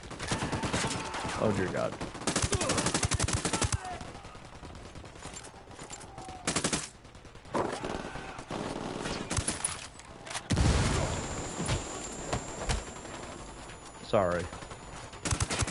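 Bursts of automatic gunfire and shots in the tactical shooter Ghost Recon Wildlands during a firefight at a church, loud and repeated in volleys, with someone talking over them at times.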